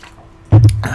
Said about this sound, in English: Just taking a drink of water.